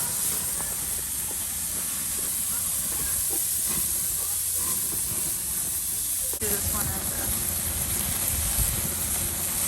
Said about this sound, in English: Let that oil drip and cause the flare-ups, and let the steak live right in there.